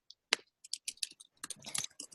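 Typing on a computer keyboard, heard as close, crisp key clicks in irregular bursts with short pauses between them and no talking.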